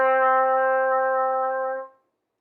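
Trumpet plays a single note D with the first and third valves pressed, one steady sustained tone held nearly two seconds, then released to silence.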